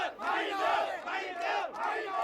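Large crowd screaming and shouting during the Sri Lanka economic crisis, a dense continuous roar of many voices rising and falling in waves.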